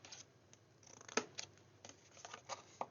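Scissors snip through card to cut flaps for a treat box with a flip lid, a few quiet, close, sharp clicks and scraping cuts spaced irregularly over near silence.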